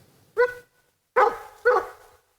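Sled dogs used for dog mushing give three sharp, fairly close barks, one alone and then two in quick succession, separated by short silences.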